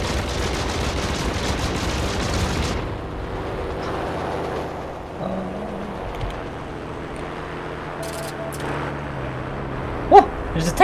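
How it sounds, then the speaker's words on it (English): A tank shooting in the online shooter Heroes & Generals: dense rumbling gunfire and blasts fill the first few seconds, then a quieter stretch of low rumble, with sharp bursts near the end. "there's a tank shooting at me."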